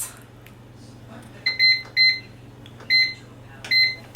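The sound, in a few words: pressure cooker beeping as it is started for 30 minutes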